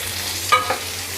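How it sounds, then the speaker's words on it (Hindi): Roughly chopped medium tomato with onion is stirred in a hot pan while cooking palak, giving a brief scrape and soft sizzle over a low steady hum. "और इसे हमें जब तक चला के भूनना है, जब तक कि हमारे जो टमाटर हैं वो अच्छे से सॉफ्ट नहीं हो जाते हैं"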